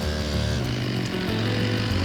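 A chainsaw bites into the trunk of a hard chinkapin oak while the tree is being felled. The engine roars loud and close, steady and continuous, with its pitch dipping as it labours in the dense wood.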